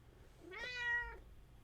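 A grumpy old female cat gives a single drawn-out meow, faint and somewhat distant, rising then falling against a quiet room hum.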